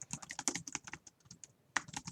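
Rapid typing on a computer keyboard, a quick, uneven run of close, light key clicks with a few sharper taps, soft overall and with no voices.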